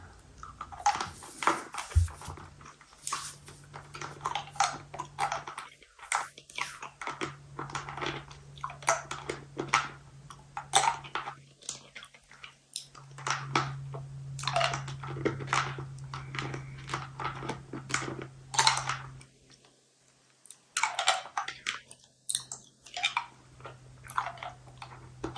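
Close, intimate chewing of Werther's Original caramel apple filled hard candy: repeated wet crunches and bites with a brief pause partway through, and no talking.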